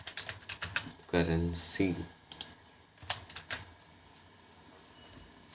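Fast clicking keystrokes on a computer keyboard, close and crisp, tapping in irregular bursts while someone speaks Hindi in between, then softer scattered taps.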